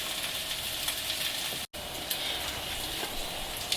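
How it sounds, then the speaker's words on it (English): Zucchini fritters frying in a pan, a steady close sizzle and crackle with no talk, briefly cut out for an instant partway through. "And you're going to let this fry off for a couple of minutes until it turns nice and golden brown on"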